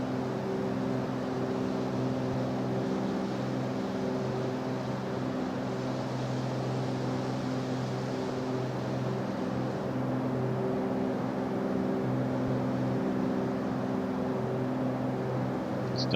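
Steady droning hum of a Piper Warrior II piston engine in the X-Plane 11 flight simulator, a constant even tone at cruise that holds unchanged throughout.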